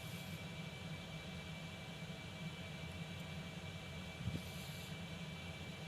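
Concorde jet engines spooling up for takeoff in X-Plane 11, a steady low roar with a thin high whine held throughout, fairly quiet and even, with a brief thump near the end.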